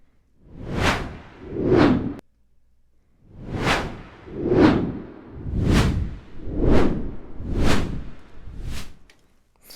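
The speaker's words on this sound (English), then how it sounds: "Let's do iron, see what that sounds like." An 'iron' preset whoosh from UVI's Whoosh program, heard as two quick swishes, a short gap, then six more evenly spaced airy sweeps with a slightly metallic edge, close and loud, with nobody speaking.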